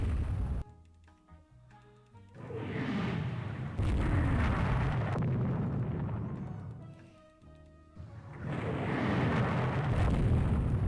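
Naval gunfire from auto-loading 6-inch guns in the game Rule The Waves 3, heard as heavy booming salvos that roll on in long, loud rumbling bursts, separated by brief quieter pauses.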